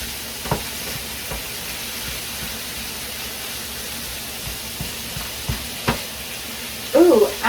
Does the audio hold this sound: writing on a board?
no